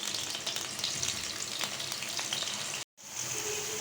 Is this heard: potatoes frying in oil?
yes